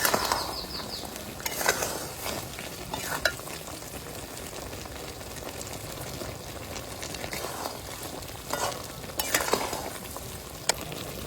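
Amla pickle frying in a pan and being stirred as spices go in, with a steady sizzle under scraping stirs and a few louder clatters near the start and end.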